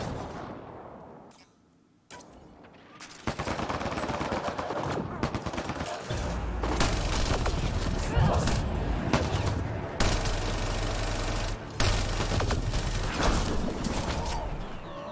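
Sustained turret gunfire in the sci-fi video game Mass Effect Andromeda, dense rattling bursts layered with mechanical clanks and heavy booms, loud and continuous after a brief quieter lead-in.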